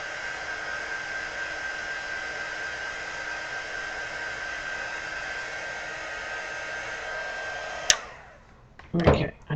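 A hair dryer blows steadily on watercolor paper, a loud, even whooshing hum with a faint steady whine that stops abruptly near the end, followed by a couple of brief handling knocks.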